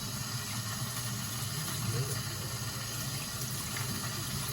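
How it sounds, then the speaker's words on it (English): Tap water runs steadily into a sink while hands are washed beneath it, a continuous close splashing wash with no pauses. "ready to wash my hand."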